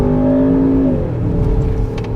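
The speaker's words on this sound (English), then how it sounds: "Engine-wise, this is a peach. It sounds fantastic." A 2023 Range Rover Sport V8 First Edition revs hard up close, its tone climbing then dropping off into a lower burble. It is loud, with no talk over it.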